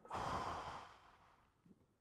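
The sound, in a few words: a deep breath taken on a count of three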